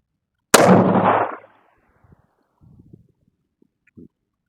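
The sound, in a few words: 308 rifle gunshots at a shooting range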